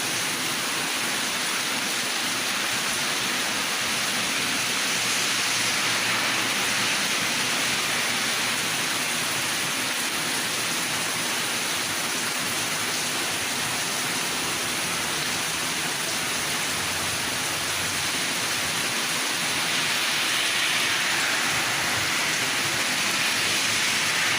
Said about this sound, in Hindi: बड़ी ज़बरदस्त बरसात हो रही है